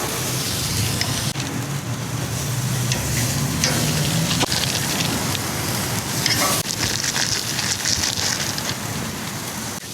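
Food sizzling on a very hot grill, a steady, dense crackle and hiss that stays close and even throughout with no voices.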